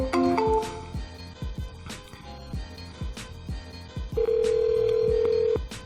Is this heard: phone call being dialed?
yes